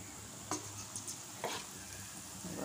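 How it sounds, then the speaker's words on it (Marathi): Masala-coated peanuts frying in hot oil give off a steady, close sizzle, with two brief louder bursts of bubbling as more pieces drop in. "आणि छान असे खरपूस तळून घ्या"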